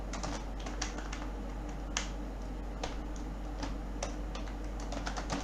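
Python code being typed on a computer keyboard, a steady run of quick, close key clicks with occasional louder strokes over a constant low hum, no talking.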